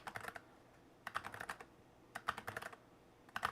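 Bursts of clicky typing on a computer keyboard, close and fairly quiet, coming in three or four quick clusters separated by short pauses, with no voices.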